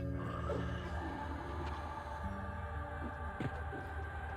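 Undead frog creatures croak in the Lower Guk dungeon of EverQuest, a few low, throaty calls rising briefly over a steady droning hum.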